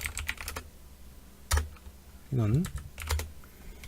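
Fingers type on a computer keyboard in short, close clusters of crisp key clicks separated by pauses, with a brief spoken word in the middle.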